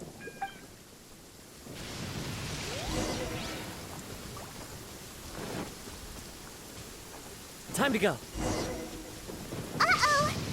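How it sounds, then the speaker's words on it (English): Thunderstorm in Genshin Impact: a steady wash of rain with rolling thunder, loud cracks near the 8- and 10-second marks, and brief talk at the start. "Uh-oh! Lightning storm!"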